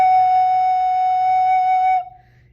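A recorder holds an F sharp in the bottom space of the treble clef, a clear steady breathy tone lasting about two seconds, close and alone before stopping abruptly.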